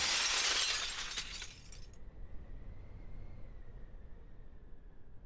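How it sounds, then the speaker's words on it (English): Glass shatters loudly in the visual novel Promises to Keep, a bright crash with tinkling fragments that fades within two seconds into a low rumbling hum and a faint high whine. "The sound of breaking glass wrenches me awake."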